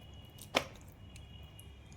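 One sharp knife strike cuts through a Shilghoria fish being cut into large pieces, a single crisp chop standing out against a quiet kitchen.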